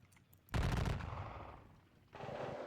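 A burst of gunfire rings out in a video game battle near a gentle ridge, starting with loud rapid shots, then sustained rattling that fades before a second volley picks up near the end.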